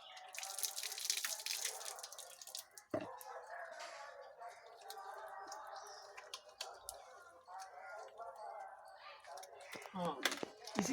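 Tap water runs and splashes as hands are washed at an outdoor handwashing awareness event, a steady trickle with drips over the whole stretch, with faint background voices.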